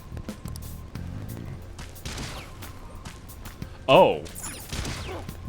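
A statue shooting someone in Persona 5 Royal, one sharp loud crack of gunfire partway through, set against game background sounds and a brief spoken exclamation.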